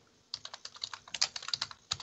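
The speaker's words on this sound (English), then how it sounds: "because we were typing" Typing on a computer keyboard: a quick run of close, crisp keystrokes starting after a short quiet stretch, uneven in rhythm with a few louder key hits.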